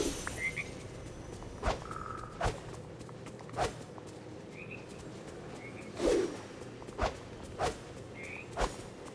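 Frogs croaking in the cozy life-sim game Disney Dreamlight Valley, a scattered series of short, sharp croaks at irregular intervals over a quiet hissing ambience with occasional faint chirps, no voices present.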